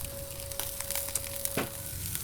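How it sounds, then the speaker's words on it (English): Uncooked Argentinian sausages sizzle on a hot Blackstone griddle: a steady, dense crackling hiss, close and fairly loud, with small pops scattered through and a faint constant hum underneath. "And then we put those Argentinian sausages."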